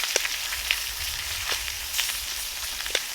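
Salmon sears in a hot skillet over a Solo Stove campfire outdoors, giving a steady close sizzle and hiss with a few sharp pops and crackles scattered through it.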